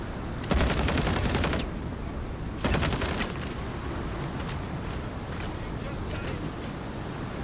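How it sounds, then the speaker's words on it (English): Turret gunfire in the space game Star Citizen comes in two loud rapid bursts, with lighter scattered shots after, against a constant windy rush in the background. "is the turret shooting at me?"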